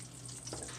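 Sausage sizzles in a frying pan, a soft, steady crackle close by, with a faint stir or scrape partway through.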